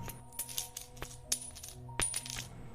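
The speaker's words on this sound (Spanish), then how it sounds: "Kevin se le cayeron unas monedas" Coins dropping and clinking onto a hard surface, several bright metallic taps scattered irregularly over a quiet background, with no talk.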